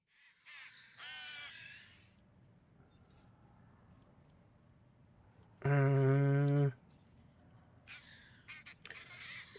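A raven named Hugin caws once, loud and close, in Warhammer 40,000 Rogue Trader, a single harsh call amid quieter ambient game sounds and faint scattered noises.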